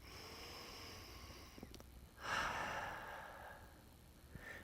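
A person breathing deeply during a sciatica stretch, with a slow, audible exhale through the nose after a couple of soft breaths, close and quiet, and no talking.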